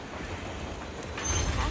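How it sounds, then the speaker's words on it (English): A train rumbles past in the Zenless Zone Zero video game, a steady low rolling rumble that swells louder toward the end, with no talking. "Get this motherfucking train out of the way."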